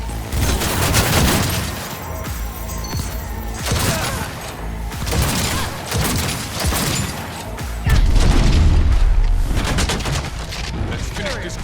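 Gunfire in the video game Cyberpunk 2077: loud, dense bursts of rapid shots and booming impacts in clusters, with brief lulls between volleys.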